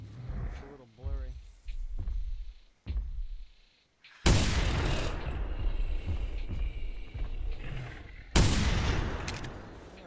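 Gunfire in the dinosaur-hunting video game theHunter: Primal: after a stretch of speech, two loud, sustained bursts of shooting with a long ringing tail, the second starting about four seconds after the first.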